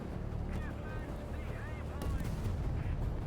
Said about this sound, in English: I didn't even see him until my gunner started shooting